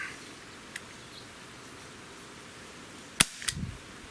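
A Gamo PT-80 air pistol fires a pellet with one sharp, close crack, followed by a brief metallic rattle over quiet room tone.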